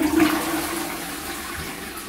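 A toilet in England flushes up close, a loud rushing gush at the start that settles into a steady stream of running water, with no voices.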